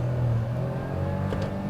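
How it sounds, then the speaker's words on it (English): A Perodua Ativa held in first gear in manual mode with the throttle floored, its engine note droning and building steadily under load close to the cabin, with no one speaking. "we're in first gear, putting my foot flat to the floor."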